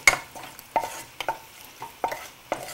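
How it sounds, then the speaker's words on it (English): Golden raisins fried in oil in an Indian home kitchen and stirred with a spoon, making repeated scraping clinks at an irregular rhythm over a faint sizzle, close and alone. "Just mix it up well, and you can see the golden raisins will puff up and form a round shape"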